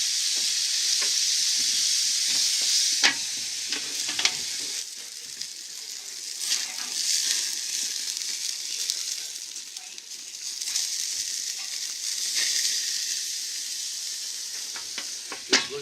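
Pork steak sizzles on a vintage restored barbecue, basted with barbecue sauce thinned half and half with beer, giving a steady close hiss and crackle with occasional louder pops and spits throughout.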